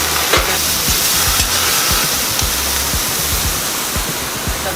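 Oysters frying in a hot wok for char kway teow at a Singapore hawker stall, giving a steady loud sizzle with faint stirring scrapes throughout, no talking.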